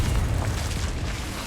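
A loud, booming explosion from the Confringo spell in Hogwarts Legacy, a dense, sustained rumbling blast that fills the whole moment with no pause.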